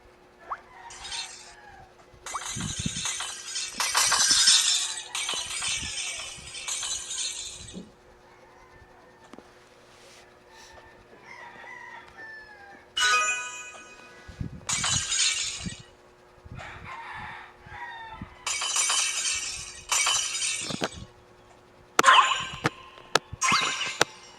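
Bursts of glass shattering from a Squid Game glass bridge video game as a player falls through a panel, with several loud crashing breaks and tinkling shards separated by quiet gaps and faint in-game clanks.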